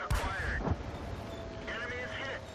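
A tank main gun firing in World of Tanks from a Matilda IV, one sharp booming blast at the start followed by rumbling battle noise and game sounds, with a voice talking over it.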